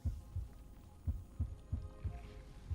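Slow, steady heartbeat thumps in a fantasy game, a low double-pulse repeating about every third of a second apart in pairs, soft and close over a faint hum, no one talking.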